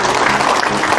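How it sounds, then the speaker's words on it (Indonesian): An audience applauds the guru penggerak teachers at a school district event, a dense, loud wash of clapping that fills the whole moment. "mari kita aplaus bersama untuk guru penggerak kita"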